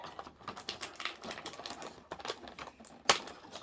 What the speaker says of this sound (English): So I gotta cut all these little plastic pegs or plastic tabs out of here.